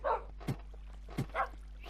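Dogs in Minecraft give several short yipping barks, about four quick sharp barks spaced unevenly over two seconds, clear and close against a low background hum.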